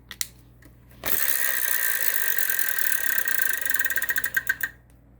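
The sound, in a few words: Wheel of Fortune wheel spinning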